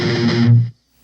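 A distorted electric guitar tremolo-picks a rapid, steady flurry on the first fret of the A string, loud and sustained for under a second before cutting off abruptly into silence.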